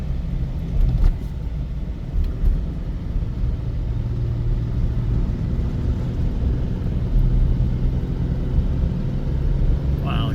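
A car climbs a mountain road above Owens Valley toward the Onion Valley trailhead, a steady low engine and tyre rumble filling the cabin, with a few soft bumps and no talk.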